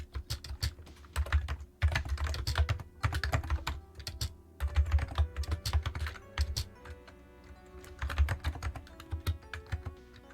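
An Amiga computer keyboard being typed on, close and dry: rapid bursts of clicking keystrokes in uneven runs separated by brief pauses, with no voices.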